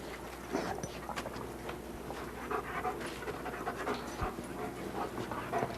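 A dog pants steadily and fairly close during narcotics detection dog training, with rhythmic quick breaths, light footfalls and shuffling, all at low volume.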